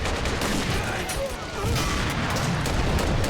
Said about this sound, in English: The Red artillery is even firing.